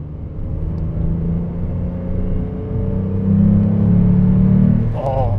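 A Renault Clio RS V6 with its 3-litre engine pulls from low revs around 2000 rpm, a loud, smooth, rising rumble heard from inside the car that swells steadily before easing off.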